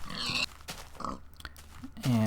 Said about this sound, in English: Got pigs here.